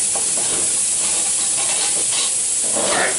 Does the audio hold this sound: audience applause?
no